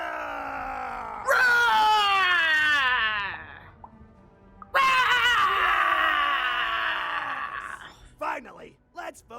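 Screaming in the video game Lost in Random, two long, loud wavering screams with falling pitch and a short gap between them, ending in a few scattered bursts.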